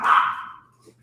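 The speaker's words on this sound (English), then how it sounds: "Well, I think the dogs are going nuts." Excited dogs barking in a single burst, fairly close and loud, fading quickly into quiet.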